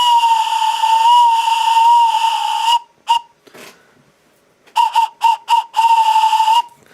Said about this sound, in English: We're blowing the whistle. We're leaving the station.